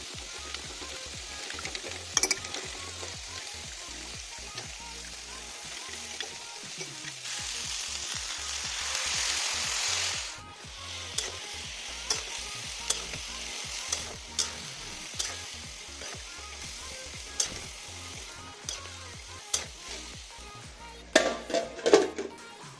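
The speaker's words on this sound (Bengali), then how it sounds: "এই মশলাটাতে আমি হালকা পরিমাণ জল অ্যাড করে দিচ্ছি, এটা গোলার জন্য।" A vegetarian vegetable curry with spice paste fries in a pan, with a steady sizzle and repeated scraping stirs throughout. A louder hiss surges midway, likely as water hits the hot paste, then the stirring clicks continue up close.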